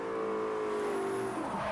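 A car engine in the Forza Horizon racing game drones steadily at high revs, its pitch easing slightly and then wavering near the end.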